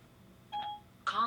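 Apple CarPlay on a Kenwood DDX9702S car radio sounds two short electronic tones as a phone call is placed, the second brighter and louder, over a quiet background.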